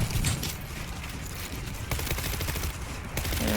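Rapid SMG gunfire in the zombie shooter World War Z, dense bursts of automatic shots that run nearly the whole time, loud and continuous with brief gaps between strings of fire.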